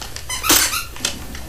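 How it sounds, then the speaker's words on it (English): A dog named Gretchen lets out a single short, high squeak partway through, close by, amid otherwise quiet surroundings. "The dog squeaked."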